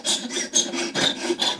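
A bone guitar saddle is sanded on a sanding block in quick, close, raspy back-and-forth strokes, about six rhythmic rubs, loud and alone.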